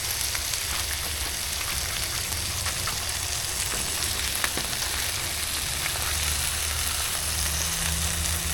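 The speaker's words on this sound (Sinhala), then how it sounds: "තෙල් එක රත් කරලා තියෙන තෙල් එකට දා ගන්නවා පිටි දෙක තුනක්" Pieces of flour dough frying in hot oil for a chapati roll, a steady close crackling sizzle that runs throughout with no one speaking.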